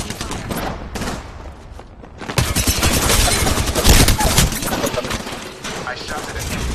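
Video game firefight with heavy, sustained gunfire: a few separate shots early, then a loud continuous barrage of rapid bursts that rolls on for several seconds with no voices over it.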